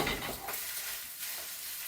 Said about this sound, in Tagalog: lutuin natin yung carrots natin tsaka masunog na yung kawali natin